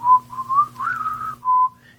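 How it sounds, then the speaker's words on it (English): A lone voice whistles a short, bright tune, the opening notes of Pop Goes the Weasel, as the android B4 in Star Trek Nemesis, clear and close with brief pauses between phrases. "B4 starts to do the whistle that Data did in the first episode of The Next Generation"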